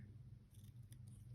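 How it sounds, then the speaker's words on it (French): Scissors snipping a small piece of double-sided tape for a scrapbooking craft, a few quiet crisp cuts over a steady low background hum, with no talk. "Donc, je vais déjà couper mon petit bout."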